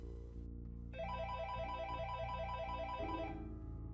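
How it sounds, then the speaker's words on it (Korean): A telephone ringback tone heard while calling a wife, a repeating electronic ring pattern that comes in after a brief low hum and stops shortly before the end, fairly quiet. "저는 떨리는 손을 부여잡고 일단 아내에게 전화를 걸었습니다."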